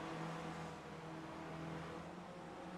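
Race car engines roar steadily at Bathurst in the iRacing sim, a continuous loud drone of several cars heading up the mountain, with no talk.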